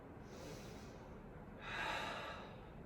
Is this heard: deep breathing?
yes